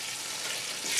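Turkey wings frying in hot oil, a steady close hiss and crackle that swells slightly toward the end, with no voices.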